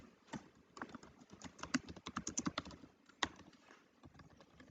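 Code being typed on a computer keyboard, a quiet run of irregular clicky keystrokes with short pauses and a few sharper key hits, close to the mic and alone.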